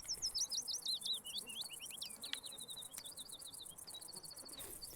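Songbirds chirp and trill repeatedly in the fishing game Russian Fishing 4, with rapid high-pitched calls layered over a steady hiss of insect-like ambience and no talking.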